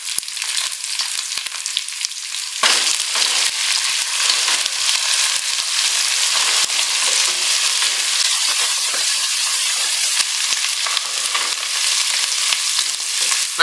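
Mint leaves, slit green chillies and coriander frying in a pan for chicken pulao, a steady loud sizzle with occasional stirring scrapes, continuous and close with no talking.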